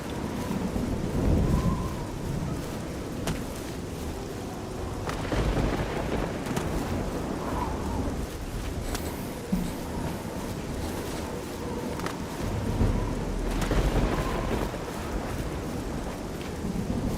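Thunderstorm with heavy rain in the video game Oblivion, a constant dense hiss of rainfall with several deep rolling thunder rumbles rising and fading throughout, fairly loud and with no voices.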